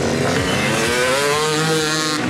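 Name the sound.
stunt motorcycle engine revving while warming up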